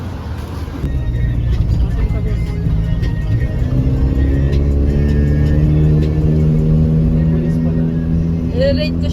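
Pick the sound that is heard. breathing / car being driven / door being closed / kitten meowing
car being driven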